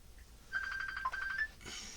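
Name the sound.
phone ringing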